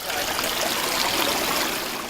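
Water rushes down a Mill Creek street in a steady, broadband flow, heard briefly and alone as a continuous near stream.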